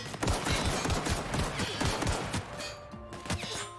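Rapid gunfire in The Outer Worlds during a frantic alien-world firefight, a loud stream of sharp repeated shots with heavy low thumps, thinning out toward the end.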